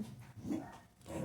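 A dog barks briefly at a distance, a couple of faint, muffled yelps over a quiet background.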